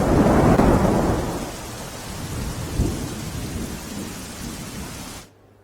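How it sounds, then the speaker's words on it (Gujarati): Heavy monsoon rain in Banaskantha with a deep rumble of thunder, loud at first then settling into a steady downpour before cutting off abruptly. "તાલુકામાં વહેલી સવારથી જ વરસાદ થઈ રહ્યો છે"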